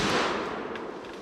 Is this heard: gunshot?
yes